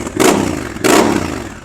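A motorcycle fitted with an SC Project exhaust revs in two loud, close bursts, each swelling and then easing back to a rough idle.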